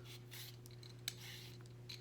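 A sweet potato with tough skin being peeled by hand, giving soft, faint scraping strokes in a quiet kitchen over a low steady hum, with a brief sharper scrape near the middle.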